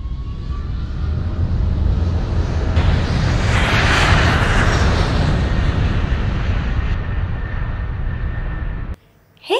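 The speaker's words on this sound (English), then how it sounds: "That sound was of an aeroplane." A loud aeroplane flies past with a broad, steady roar that swells toward the middle and holds for about nine seconds before cutting off abruptly.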